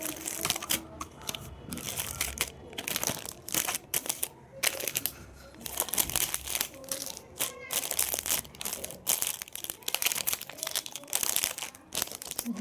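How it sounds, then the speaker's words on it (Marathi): Two necklaces being packed by hand for a jewellery order, with dense, irregular crinkling and rustling of packaging and paper, close and fairly loud, in uneven bursts throughout. "तर ही ऑर्डर आता मी पॅक करते"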